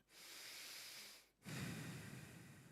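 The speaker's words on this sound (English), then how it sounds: "So you may start breathing deeper in through the nose, out through the nose." Deep nasal breathing during a guided relaxation: a long, steady inhale through the nose, a brief pause, then a fuller, rougher exhale. The breath is close and alone, with no talk.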